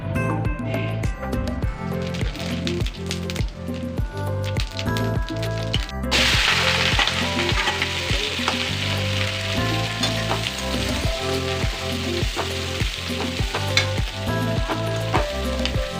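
Cumin seeds frying for a chana dal dish, heard as a continuous hissing sizzle that grows denser and louder partway through, accompanied by a regular background rhythm of music-like beats.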